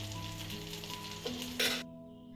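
Spiced fish fries in a pan over a low to medium flame, a steady close sizzle throughout with a brief louder crackle as the pieces are stirred, before it cuts off abruptly.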